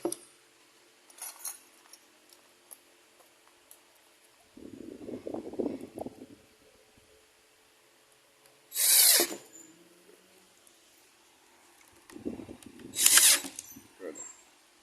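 A power drill drives screws into a corner kitchen cabinet during assembly, with several short high whirring bursts separated by quieter handling clatter and lower rattling mechanical passages.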